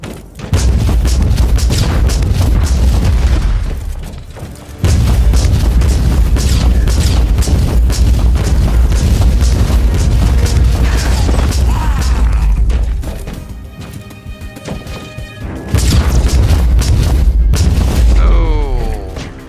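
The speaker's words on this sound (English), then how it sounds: "penetrating shot right through the rock" Penetrating weapon shots fired in Warhammer 40K Inquisitor combat, loud and dense with booming impacts, rapid bursts and crashing debris across two long barrages separated by a brief lull and mechanical whirring.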